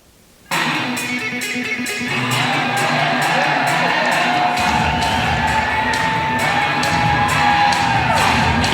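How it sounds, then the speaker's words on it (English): An audience at the 1992 Arnold Classic bodybuilding contest erupts in loud, sustained screaming, whooping and cheering that builds and keeps going for several seconds, dense and close, with shouted voices in the crowd. "You see now how they're screaming"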